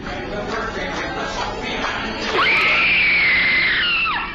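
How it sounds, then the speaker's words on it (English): A woman's loud, sustained scream suddenly cuts across a murmuring audience during Disneyland's America Sings animatronic show, holding a high pitch for more than a second and a half before falling away. "What you just heard was supposedly the final screams of a Disneyland employee named Deborah Stone."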